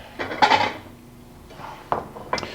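A dish being taken out and handled in a home kitchen gives a couple of light clinks and knocks against other tableware, close and fairly soft, with quiet gaps between them.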